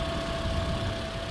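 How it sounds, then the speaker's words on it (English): A 2010 Toyota Corolla S engine idles smoothly and quietly, a steady low hum with a faint constant tone running unbroken throughout, with no talking. "It idles really well. Super smooth and quiet."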